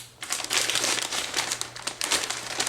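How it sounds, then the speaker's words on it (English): Paper Wendy's fast food bags crinkle and rip open up close, a dense, continuous rustling and tearing with uneven bursts that carries on throughout, no voices. "We're going to rip open these bags."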